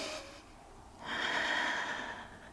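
A slow, deep breath drawn and released during a yoga strength hold, first a softer airy exhale then a fuller, louder breath swelling for over a second, close and alone with no talk.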